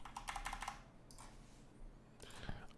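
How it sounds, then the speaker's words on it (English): Computer keyboard typing in quiet bursts: a rapid run of soft key clicks, a brief pause, a couple of isolated taps, then another quick flurry, close and faint with no talking. "And I was typing something up for my Fiverr page."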